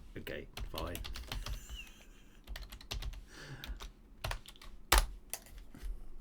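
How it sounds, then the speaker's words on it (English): Typing on a computer keyboard, with rapid irregular key clicks at close range in quick bursts and one sharper, louder keystroke near the end; no speech. "what I'm now doing is I'm typing dodgy commands into my computer from some guy on the internet."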